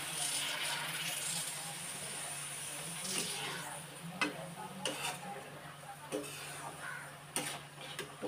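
Cabbage fries in a pan with a steady sizzle while a utensil stirs it, giving occasional sharp taps and scrapes against the pan, heard close with faint talk at times.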